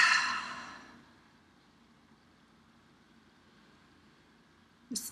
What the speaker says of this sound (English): Breathing in.